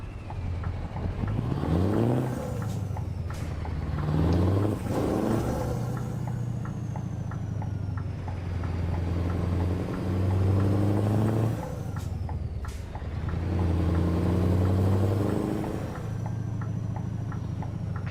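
A heavy truck engine in the Euro Trucking game, the Arctic Beast, is driven a bit too fast around a depot. It revs up and falls back in repeated swells with gear-change dips, loud and close, with no talk.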